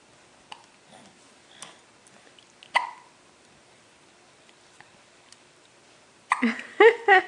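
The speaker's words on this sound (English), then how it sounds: "She's got the hiccups" A six-week-old baby girl hiccups softly several times at irregular intervals in a quiet room, faint and close, before a louder burst of nearby sound at the end.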